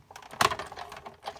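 A sheet of card is cranked through a Big Shot die-cutting machine, giving a short run of quiet clicks and mechanical rattles with one sharper snap near the middle, close by and alone.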